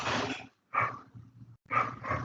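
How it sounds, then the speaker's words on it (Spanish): A small dog barks in a few close bursts with short gaps between them, mixed with some growly tones, and no talking over it. "Ese perrito que está ladrando"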